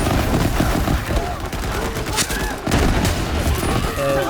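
Gunfire in the video game Borderlands 3, a dense fusillade of rapid shots and bursts running continuously over loud game sound, with no voice on top.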